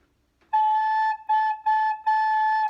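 A recorder plays the note A in four clear, sustained tones with short gaps between them, pure and close with no accompaniment.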